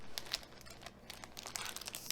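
Plastic packaging of Cricut transfer tape crinkles and tears open close up, a run of sharp rustling crackles with brief tearing bursts and no talk.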